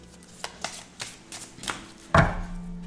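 An oracle card deck being cut and shuffled by hand, several soft papery slaps and riffles close by, ending in one fuller shuffling burst.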